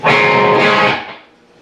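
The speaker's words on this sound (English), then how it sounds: "So this pre-chorus really has an A 5th string just ringing out," Distorted electric guitar strikes a single loud chord with the open A string ringing out, from a song's pre-chorus, sustaining about a second before being choked off and fading.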